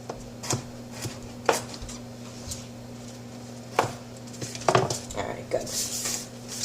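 A knife chops ingredients for a morning smoothie on a board, sharp irregular knocks with clinks of dishes and utensils beneath a steady background hum, close and moderately loud.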